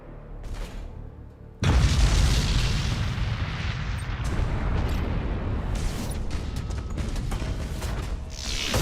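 An enemy defense platform blows up in a Warhammer 40K Battlefleet Gothic: Armada 2 space battle. A sudden deep boom is followed by a long rumbling roar, with crackling bursts sounding over it.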